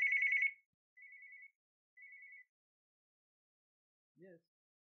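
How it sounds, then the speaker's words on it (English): A telephone rings with an incoming call, one longer electronic trill followed by two shorter tones about a second apart, then a short spoken sound. "Okay, there's another phone call."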